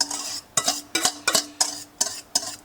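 Eggs go into a pan already holding mushrooms and lardons, heard as six evenly spaced clinks and scrapes of a utensil against the pan, close and fairly loud, with a faint sizzle underneath.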